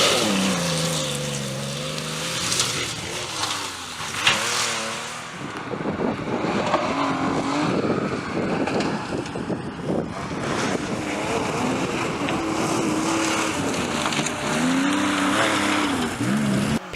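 A Porsche 911 RS rally car on the Sweet Lamb stage of the 2005 Mid Wales Historic Rally, its engine revving hard and shifting through gears, loud and close, rising and falling in pitch as it passes.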